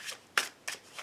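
Tarot cards being cut during a card reading, three or four quick, soft papery riffles and slaps, close and quiet, with no talk.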